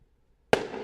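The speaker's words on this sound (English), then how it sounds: "Wait, we're getting a free firework display." A single firework goes off outdoors with a sudden loud bang after near silence, then a crackling tail that fades over half a second.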